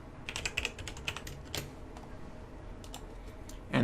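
Keys on a computer keyboard are tapped in quick irregular bursts, close and fairly quiet, with short pauses between clusters of clicks.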